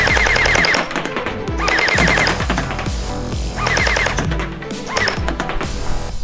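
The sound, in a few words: SKD M4SS gel ball blaster firing at a box target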